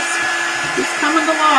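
A hair dryer blows steadily at close range over a chalk craft project, a loud continuous whooshing hum that holds for the whole moment.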